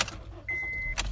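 A 2013 Honda Fit Sport with a manual five-speed starts up close by: a brief starter whine and crank, then the engine catches into a steady idle, with a key rattle at the start.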